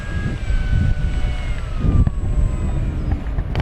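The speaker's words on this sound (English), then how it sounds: "This is such a pleasurable plane to fly, flies so nicely." An FMS P-51 Mustang Red Tail, a 1700mm radio-controlled warbird, flies past with a steady engine drone that swells and fades as it passes overhead, heard outdoors without talk.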